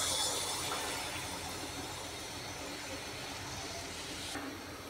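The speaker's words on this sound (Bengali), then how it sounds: "এই যে আমার তেল গরম হয়ে গেছে। এখন আমি একটা একটা করে দিয়ে দেব গুঁড়া।" Rice flour fritters sizzle in hot oil, a steady broad hiss of frying that fills the clip, loud at first and easing slightly, with a faint low hum beneath.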